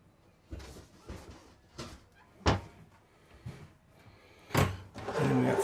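Hidden storage lid in a 2024 Newmar Mountain Aire 3825 RV lifted open, giving a few quiet wooden thunks and knocks, then a louder clunk near the end with some rustling.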